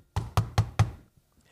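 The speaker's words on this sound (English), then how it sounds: "but he knocks on the door." Four sharp, evenly spaced knocks on a door in a TV drama scene, close and loud, followed by quiet.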